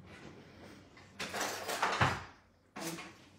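A kitchen drawer slides open with a rattling scrape, a soft thump partway through, then a second shorter slide, close and moderately loud while someone searches for an offset spatula.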